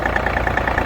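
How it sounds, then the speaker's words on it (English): The engine of a John Deere 3025E compact tractor that has been leaking oil runs in cold weather with a loud, close, steady rhythmic chug, and no one talks. "we're just going to use the tractor this time"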